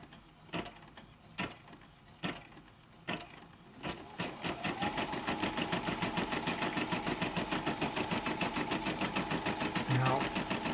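A Brother PB6800 combo sewing machine stitching a buttonhole: a few separate clunks, then a steady fast mechanical chatter of rapid repeating needle strokes that continues at an even level, close and fairly loud, with no talking.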